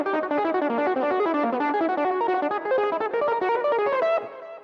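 Fast distorted electric guitar lick in a shred style, a dense run of quick picked notes played steadily and loudly up front with effects, ending abruptly.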